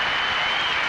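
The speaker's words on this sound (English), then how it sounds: "a very appreciative applause from the crowd" Brief, dense applause from a tennis crowd at Wimbledon in 1991, a steady wash of clapping filling the moment.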